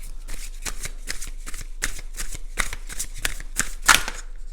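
Playing cards being drawn and laid out one after another, a string of crisp flicks and slaps close to the ear in an uneven rhythm, with one louder snap near the end.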